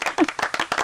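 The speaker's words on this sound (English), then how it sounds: "Round of applause for Tiffany." Brief close clapping from a few hands in a radio studio, a quick run of sharp claps with a faint voice mixed in.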